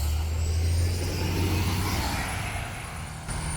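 A bus rumbles past close by, loud and steady low engine noise with a brief air-brake hiss, cutting across a runner's path on the road.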